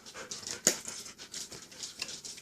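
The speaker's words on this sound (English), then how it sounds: "The dogs are breathing heavily." Dogs pant heavily nearby in fast, breathy rhythmic huffs, with one sharper yip-like sound partway through, fairly quiet and with no talking.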